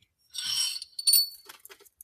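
Glass bangles tap and clink against a metal bracelet sizer, a bright ringing burst first, then a second chime and several smaller scattered clinks, close up and without voices.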